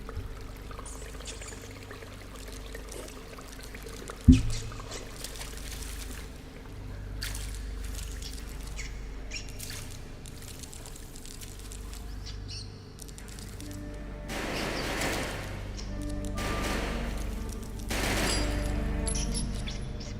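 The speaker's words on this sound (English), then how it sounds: "Those are bullet casings." Bullet casings falling in the video game Resident Evil Outbreak, with scattered small metallic clinks over busy game sound effects and a continuous low background rumble.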